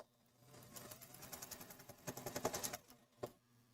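A sewing machine stitches a quarter-inch seam on a jelly roll braid tote bag, a fast run of close mechanical needle clatter that speeds up, then stops with a single final thump.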